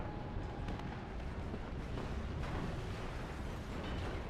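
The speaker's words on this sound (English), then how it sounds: "Cluster Bomber goes down there." A cluster bomber shot down and blowing up during a WARNO match, heard as a dense, continuous rumble of explosions and bursts with a few sharper pops near the start and again around the middle.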